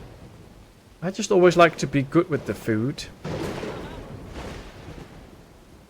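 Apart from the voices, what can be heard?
lightning strikes and thunder in video game Dawn of Man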